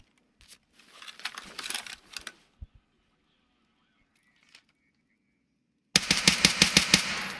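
Video game gun fired without recoil control, a rapid burst of automatic shots at the start, a few scattered thuds, then a louder sustained burst of rhythmic gunfire at the end, with a silent gap between.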